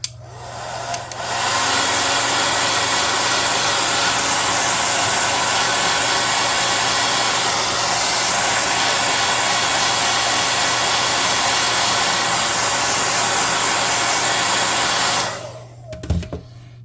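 A hair dryer blows steadily for about fourteen seconds to dry paint on a handmade tabletop puzzle map, loud and close, switching on abruptly and cutting off near the end.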